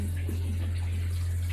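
Tap water runs steadily into a newly fitted bathroom basin and drains through its waste pipe, a continuous close splashing rush over a low hum.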